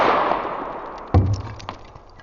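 A CCI Stinger .22LR bullet smacks into a ceramic tile with one sharp, loud crack, followed by a brief ringing clatter of fragments that fades quickly.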